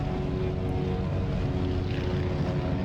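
A steady, continuous airplane engine drone fills the cabin as the aircraft banks near Orlando in Microsoft Flight Simulator, an even, unbroken hum with no voices.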